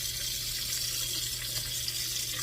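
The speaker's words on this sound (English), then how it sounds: "Rinse them out, and pop them in your bucket." Tap water runs steadily into a sink while greasy buttercream is rinsed out of icing piping tips, a continuous close splashing hiss with no voices.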